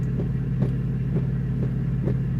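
A car drives along the road with a steady low engine and road rumble, continuous and close, with faint rhythmic thumps from the tires and no talking.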